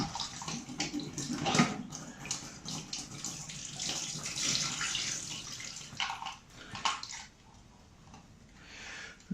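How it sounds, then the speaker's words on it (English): PlayStation 1 controller parts are rinsed under a running tap. The water flows steadily and close by, with irregular splashes and gurgles as the plastic pieces are moved through the stream, and it fades near the end. "Actually, I will give them a little bit of a rinse first."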